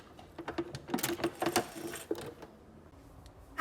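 Sewing machine back stitching, a quick run of irregular mechanical clicks and rattling needle taps that thins out into a softer whir, close and moderately loud with no voices.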